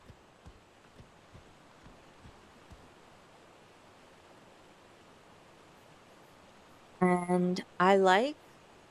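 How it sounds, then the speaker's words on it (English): A steady, faint rush of an ambient waterfall in a video game, with a few soft clicks early on and someone speaking briefly near the end. "the ambient waterfall"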